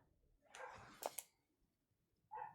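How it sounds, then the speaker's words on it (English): A dog gives two short, sharp barks close by, followed after a pause by a third bark, in an otherwise quiet indoor setting. "That dog will bark at anything."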